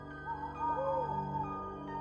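Owls hoot inside the abandoned Grand Central Terminal, a few clear, wavering calls rising and falling over a faint, steady background hum, with no other sounds competing.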